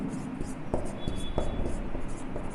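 Chalk or marker writing on a board during a chemistry lesson, soft scratchy strokes and taps in short bursts, fairly quiet and close.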